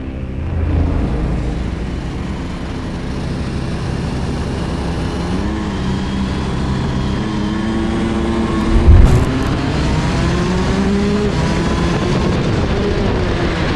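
A Rotax racing kart engine revs on a club track, a steady droning whine that rises and falls in pitch as it passes, sustained throughout with no talk.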